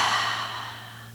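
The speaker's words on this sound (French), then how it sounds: "Expire fortement par la bouche." A forceful exhale through the mouth during a relaxing yoga breathing exercise, one close breathy rush that starts strong and fades out over about a second.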